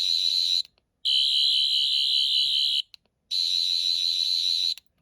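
Sonic screwdriver replica of the 10th Doctor's tool, giving out a loud, high, warbling electronic whine in three bursts with short silent gaps between them.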